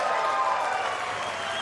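A racquetball crowd at the 2007 US Open quarterfinals applauds in a steady, even wash of clapping, with no break over the short moment.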